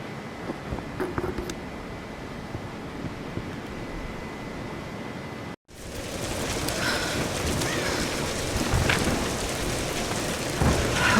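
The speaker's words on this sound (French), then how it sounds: "La tempête n'est plus très loin." A storm in the Tomb Raider video game: steady heavy rain with a low rumble of thunder, the downpour growing louder and denser after a brief cut midway, no voices.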